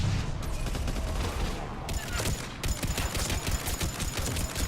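Rapid bursts of Matlock rifle fire in the video game Mass Effect 3, a loud dense fusillade of cracking shots in quick succession with a short lull midway before the firing resumes.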